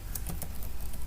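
Typing an age value on a computer keyboard: a few quick, light key taps in a short burst, close and fairly soft, with no talking.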